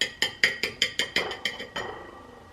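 Glassware clinking while cocktails are mixed, a quick series of about ten bright, ringing taps at a steady rhythm, each fading slightly, heard close and alone before trailing off.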